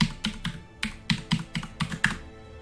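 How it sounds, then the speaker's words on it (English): Keys on a computer keyboard clack in an uneven burst of about a dozen close, crisp strokes. "I'll type this out for you."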